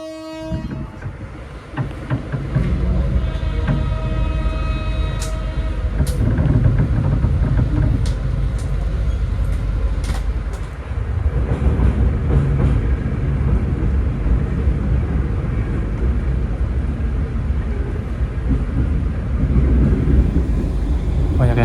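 A KA Batavia economy train pulls into a station with a steady, loud mechanical rumble and rolling clatter, sharp metallic clicks scattered on top, and a brief dip midway.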